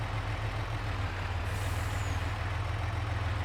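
A semi-truck in Farming Simulator 22 drones with a steady low engine rumble, continuous and even, with a faint hiss partway through and no talking.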